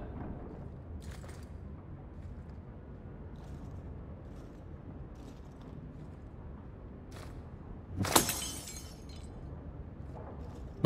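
In the video game Dragon Age 2, glass smashes against a wall in a single sharp, bright shatter with tinkling debris, rising suddenly out of a quiet, low ambient hum.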